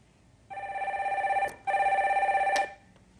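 An incoming call rings on a Korean stock-market phone-in show, two clear, near telephone ring bursts with a short pause between them, then quiet, with no voices.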